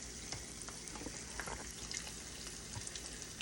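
An egg fries in a hot pan for a crispy browned edge, giving a quiet, steady crackling sizzle with scattered small pops and no voices.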